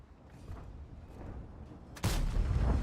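A tank cannon fires in World of Tanks with one loud, close boom, its blast rolling on under the low hum of the battle and the vehicle's engine.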